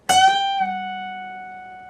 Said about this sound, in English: we're going to play the 14th fret of our high E string. We're going to bend it up and bring it back down.